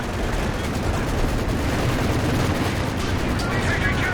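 A tank shell strikes and glances off a German Panther tank in the World War II strategy game Company of Heroes 2, amid dense, continuous battle noise of cannon and gunfire.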